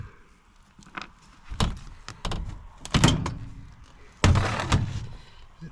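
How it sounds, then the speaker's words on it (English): Metal access doors come off an aluminum HVAC case coil: a handful of sharp, close clanks and thunks spaced a second or so apart, with a quieter rattle between, alone with no talking. "These doors are pretty easy to go on and off."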